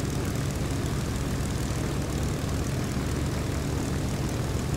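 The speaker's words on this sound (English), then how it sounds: "What a horde of airplanes." Propeller airplanes flying in a flight simulator game, a dense, steady engine drone with a low throbbing hum, constant and fairly loud with no voices.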